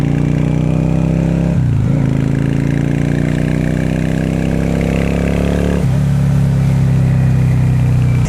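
A 650 bobber motorcycle engine runs steadily under riding load, loud and close, with two brief dips where the throttle eases off before the drone returns.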